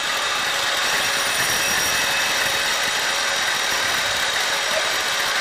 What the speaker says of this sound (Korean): 지금 머리 부분 이제 깎고 있는 거죠.